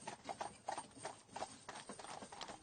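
Horse hooves clip-clop steadily along a clifftop path in Brittany, a quick, even rhythm of hollow knocks at moderate distance with no voices.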